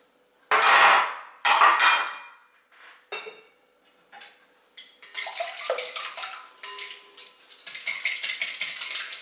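Four eggs are beaten in a bowl, with a few loud clinks of utensil on the bowl, then a quicker run of scraping, tapping whisking close by.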